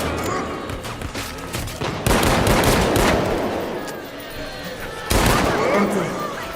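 Gunfire in the zombie shooter No More Room in Hell 2, dense rapid bursts of shots, loud and close, with heavy volleys starting sharply around two seconds and again near five seconds, continuous chaotic fire throughout.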